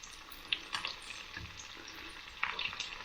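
Hot oil is spooned over a frying egg, giving a soft, continuous sizzle. Small crackles and pops rise here and there as the oil is basted over the top, fairly quiet and with no talking.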